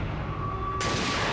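Sniper rifle shot in a James Bond video game, a loud dense blast that swells abruptly partway through and holds, with steady tonal game audio underneath and no talk.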